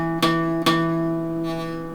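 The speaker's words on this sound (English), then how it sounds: "Yeah, see that buzzing? It's not really good." Acoustic guitar notes fretted too close to the fret buzz against the metal, two sharp plucked attacks early and a softer one later, each ringing on with a steady harmonic drone, close and alone.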